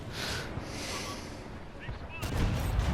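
A tank cannon fires in World of Tanks, a sudden heavy boom that lands late, with its blast and rumble breaking over a steady noisy battle ambience.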